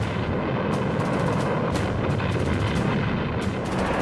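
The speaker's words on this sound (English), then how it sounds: "hidden guns erupted" Artillery guns firing during a WWII desert battle near Alam Halfa Ridge, heard as a dense, loud continuous rumble with repeated sharp blasts cutting through across the whole stretch.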